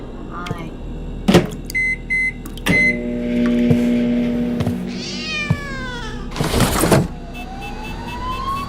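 A house cat meows a few times indoors, its cries mixed with electronic beeps, bursts of noise and short clips of voices from a game or screen.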